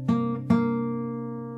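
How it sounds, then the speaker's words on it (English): An open G string on an acoustic guitar is plucked twice in quick succession, close and clear, and the second note rings out and slowly fades. "where we pluck the open G string 2 times"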